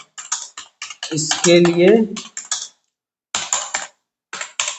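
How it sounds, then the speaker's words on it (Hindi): Rapid typing on a computer keyboard, a quick run of close, crisp key clicks in short bursts with pauses, while someone speaks briefly partway through. "मैं फास्ट टाइपिंग कर रहा हूं"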